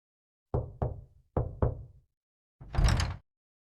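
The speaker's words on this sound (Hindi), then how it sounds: "तभी डोर नॉक करने की आवाज सुनाई देती है" Four crisp knocks on a door arrive in two quick pairs, close and loud, followed by a longer dull thud, with nothing else around them.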